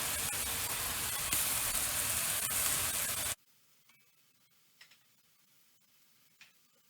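Beef and onions for shaken beef sizzle loudly in a hot pan with a steady broadband hiss, then cut off abruptly, leaving a quiet kitchen with a few faint clinks.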